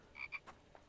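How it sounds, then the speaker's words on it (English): A frog in the video game The Infected gives a few short, faint croaks in quick succession, alone and distant-sounding. "And there's a frog there."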